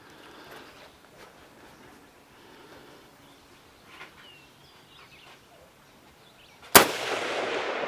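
A single M14 rifle shot fired on semi-automatic toward a 200 target, a sharp loud crack after several seconds of faint outdoor quiet, followed by a ringing tail.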